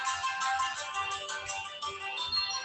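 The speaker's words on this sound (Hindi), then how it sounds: "फोन उठाएंगे नहीं, ये आदमी चाटेगा भी" A phone's electronic ringtone plays repeatedly in a steady melodic pattern, close and fairly loud, with no voices over it.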